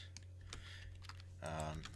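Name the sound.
computer keyboard typing shortcuts in 3D modeling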